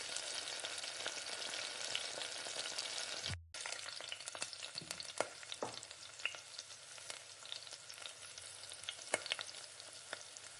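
Chopped onion frying in oil in a pan for simple noodles, a steady close sizzle with scattered crackles and a brief break partway through, no talking.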